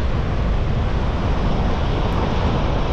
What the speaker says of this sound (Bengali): আর একটু পরে পরেই পাথরের ওপরে জলগুলো এসে এসে পড়ছে